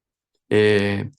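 A telephone rings once: a single short electronic tone, steady and fairly loud, lasting just over half a second after a moment of silence.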